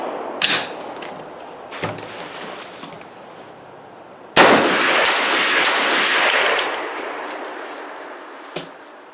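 SKS rifle fired with duckbill magazines during a reliability test: sharp, loud gunshots ring out at irregular intervals, one followed by a long, noisy rumbling echo, with quieter background hiss between shots.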